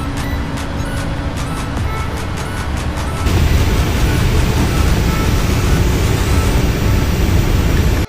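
A PMDG 777-300ER airliner taxiing at Paris Charles de Gaulle in the Prepar3D flight simulator gives a steady loud jet engine roar that swells partway through, with no talk.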